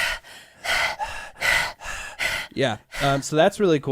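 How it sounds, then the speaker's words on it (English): Several deep, heavy breaths in and out through the belly, rhythmic and close, come first, then a person talks briefly with more breathy exhales mixed in. "you do like really deep breathing, and it's all down in the bottom of your chest and your belly"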